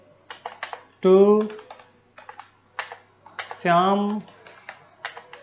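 Computer keyboard keys click in quick, irregular bursts while entering text into a table in MS Word, with someone speaking Hindi between and over the typing.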